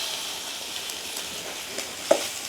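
Onion with dried red chillies and curry leaves fries in hot oil, giving a steady soft sizzle with a brief louder crackle near the end; no voices.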